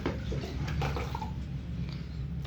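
Water poured steadily to fill a container of cow dung compost, a continuous close splashing gush with little variation.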